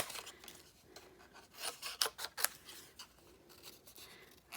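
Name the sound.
scissors fussy cutting paper shapes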